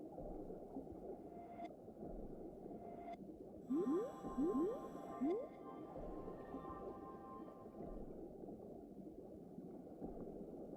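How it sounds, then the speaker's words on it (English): Whale calls in the underwater world of the game Endless Ocean Luminous, several short rising moans over a low, steady underwater hum, with a brief brighter chiming layer in the middle. "its call contains low-frequency wavelengths that travel well in water and allow it to communicate with other whales"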